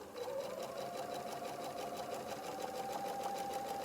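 A sewing machine back stitching at the end of a shirt seam, a steady fast mechanical whir and needle chatter running continuously for a few seconds, close and alone.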